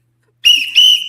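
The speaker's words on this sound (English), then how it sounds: "Blow the whistle." A whistle is blown in two shrill, steady blasts, loud and close, the second following right after the first, with no voices.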